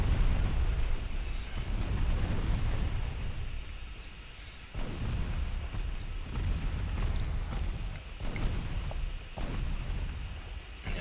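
Naval gunfire in the Ultimate Admiral Dreadnoughts game: a continuous rumbling barrage of booming shots and explosions, fairly dense and muffled, with brief dips between volleys and no talking.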